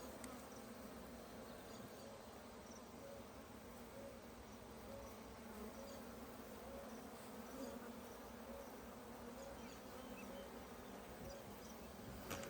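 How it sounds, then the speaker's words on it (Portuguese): Dense, steady buzzing of many bees fanning their wings during a rescue from a tree trunk, continuous and fairly faint throughout with no talk. "muita abelha assim, ó, com a bundinha pra cima, batendo asinha"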